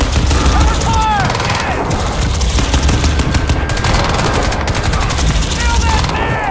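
Rapid bursts of automatic gunfire crackle loudly and continuously in Crysis 2 Remastered, with whooshing effects and shouted combat voices over the din.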